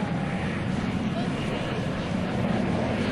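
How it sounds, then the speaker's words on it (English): A US Navy Blue Angels jet on approach to the runway for landing at an airshow, its engine a steady broad roar throughout, with an announcer talking over it. "Approaching the runway from the left, Commander Bartlett is confirming that the landing checks have been completed"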